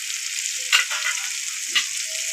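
Spiced masala frying steadily in a pan for raw banana curry, a continuous bright sizzle with two brief louder bursts as it is stirred, no voices.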